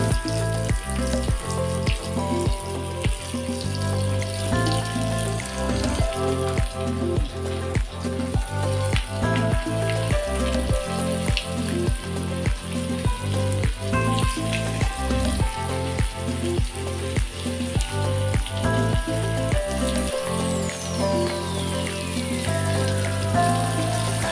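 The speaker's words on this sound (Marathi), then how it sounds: "इथे आपलं तेल पण गरम झालेलं आहे मस्तपैकी तर आता आपण एक एक त्याच्यामध्ये फ्राय करूया" Flour-coated creek fish frying in hot oil, a steady close crackling sizzle running throughout under rhythmic background music, with no talking.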